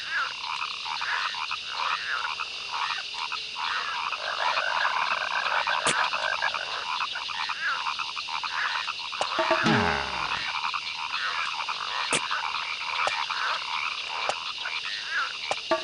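Dense chorus of croaking frogs in the Amazon Trail video game, continuous rhythmic calls layered together, with a brief low swooping sound midway and a few sharp clicks.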